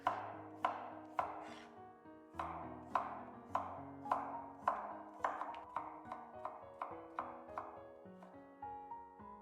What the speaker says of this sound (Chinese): 黃瓜也一樣，先切片再切絲